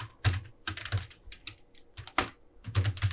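Someone typing C code on a computer keyboard, a quick close run of key clicks in uneven bursts with short pauses, no voice heard.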